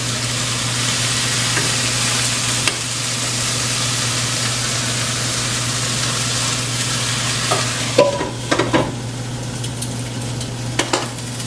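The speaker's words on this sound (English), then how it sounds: "I'm going to go ahead and put the lid on the chicken pan so that we can get it finished cooking without it getting too brown" Chicken fries under a lid in a pan, giving a loud steady sizzle and hiss throughout, then a few clinks and scrapes near the end as the pan is handled, with no voices.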